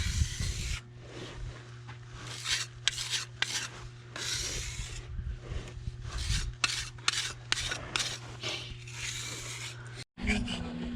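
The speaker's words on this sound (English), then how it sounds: "we're having to scrape the mortar joint out, the old mortar joint out" Old mortar joint being scraped out of a compressed earth block wall: repeated rasping, gritty strokes in an uneven rhythm, close and fairly loud, over a steady low hum with some voices in the background.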